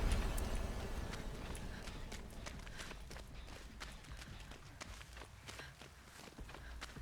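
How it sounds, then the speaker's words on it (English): Rapid footsteps of the Wraith, the killer in a multiplayer survival video game, come as a steady run of soft thudding steps over a constant background hum. "I'm hearing footsteps and I feel like it's the Wraith"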